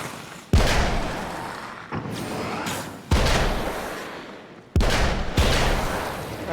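Gunshots ring out from a shooter game, Alan Wake's American Nightmare: four loud, sharp blasts spaced a second or two apart, each with a long booming tail, and no voices.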